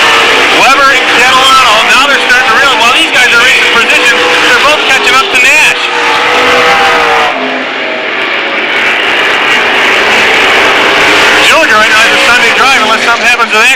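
Race cars roar around the oval at Lancaster Speedway, engines whining and rising and falling as they battle for position, loud and continuous beneath an announcer's running commentary.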